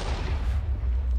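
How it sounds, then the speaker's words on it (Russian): Explosive arrow blast from the Battle Gear 2 weapons mod in Minecraft: a loud, sustained rumbling boom with heavy low-end roar filling the whole moment, no speech over it. "Нифига себе взрыв."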